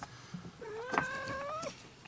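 A house cat meows near the microphone, one rising, drawn-out call over quiet room noise.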